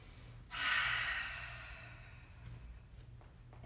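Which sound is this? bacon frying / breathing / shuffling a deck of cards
breathing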